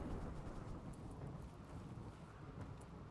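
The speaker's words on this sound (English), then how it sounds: "that's a pretty big storm" A big thunderstorm in the RimWorld video game, with a dense, steady wash of rain and low rumbling thunder that rolls on without a break and no talk over it.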